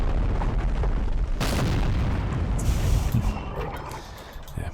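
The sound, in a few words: artillery shots in Empire: Total War video game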